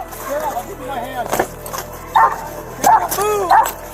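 Police dog barking and yelping in short bursts during an arrest, loud and close, with officers shouting commands over and between the barks.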